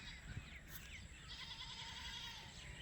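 A goat bleats faintly in a village in Pakistan, a wavering cry partly masked by steady rain noise, with another faint bleat following.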